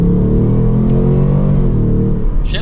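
A 2024 Ford Mustang GT Premium drives off, its engine a loud, steady low rumble from inside the car with a slight rise in pitch, and a short noise near the end.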